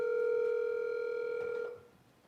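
A single long electronic telephone tone sounds steadily, clear and close, then cuts off abruptly into near quiet.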